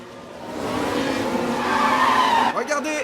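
A Formula 1 car in a racing video game, a Las Vegas 2024 simulation, locks its wheels under braking. Loud engine drone and rising tire squeal fill the clip before cutting abruptly near the end.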